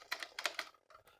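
Keys are pressed on a Sinclair Spectrum keyboard, including the spacebar, giving several quick plastic clicks close by in an uneven rhythm, quiet with no talk.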